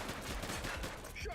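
Rapid gunfire crackles through a video game police shootout, a dense burst of shots with no pause across the short stretch.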